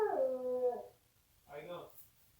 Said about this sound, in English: I hope it wasn't a coyote, a male coyote